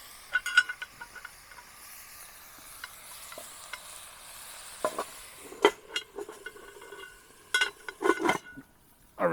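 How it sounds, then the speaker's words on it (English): Chopped vegetables with garlic and onion softening on a popup fire pit grill grate, a soft sizzle under scattered sharp scrapes and clinks of a utensil stirring the pan, growing busier toward the end. "You want to cook this for a good couple of minutes, just to let the veggies soften in with the garlic and the onion"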